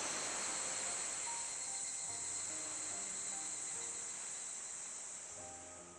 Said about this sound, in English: I don't mind the cicadas